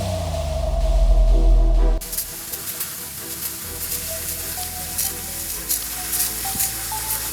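A simple water jet cutter slices through a thin wooden sheet, starting with a loud pump drone that gives way to a steady, sizzling hiss of spraying water that continues throughout.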